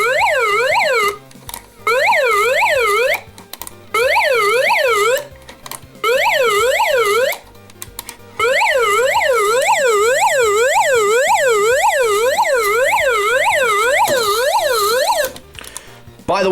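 GoPower flashlight's built-in siren wailing loudly in rapid, warbling up-and-down sweeps, repeated in bursts with brief gaps between them.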